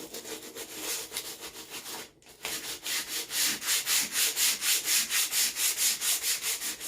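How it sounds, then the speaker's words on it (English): A wooden board is sanded by hand in rapid, even back-and-forth strokes, close and rhythmic, with a brief pause before the rubbing resumes at a faster, louder pace. "But this helps sand my board too,"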